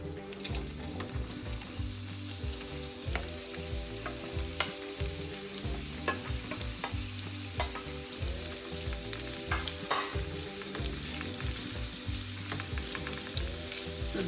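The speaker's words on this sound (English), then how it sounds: "So we'll just add now the onions and we'll start frying." Steady sizzling of onions frying in a pan, with occasional stirring scrapes and crackles, no voices.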